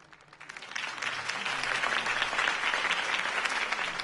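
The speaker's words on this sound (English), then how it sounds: "If only Mr. Wayne, my campaign's largest backer, could have heard that applause" Applause from a crowd at a campaign speech in Batman Telltale swells in over the first second and then holds as steady, dense clapping, with no speech.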